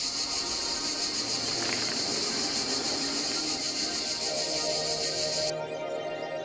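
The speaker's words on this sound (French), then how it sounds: "Les cigales qui chantent." Cicadas sing in a dense, loud, continuous high buzzing chorus. The sound holds steady throughout, then the brightest part of the drone cuts off near the end while a softer hum carries on.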